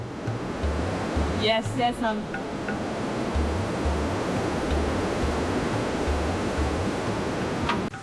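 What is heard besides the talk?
ocean waves on Kokobite Beach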